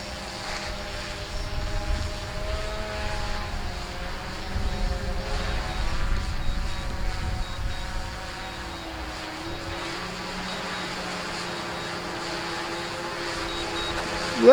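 A DJI drone descends to land, its propellers giving a steady buzzing whine with a low rumble beneath, continuous and moderately loud throughout, with no voices over it.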